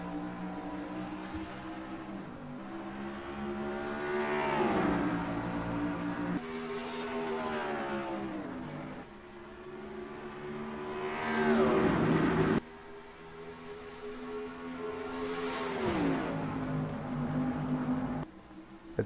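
Race car engines roaring in NASCAR Racing 2003 at Dover at the green flag start of the Wawa 400, loud droning revs that climb and drop sharply through several gear shifts, with a pack of cars rumbling underneath.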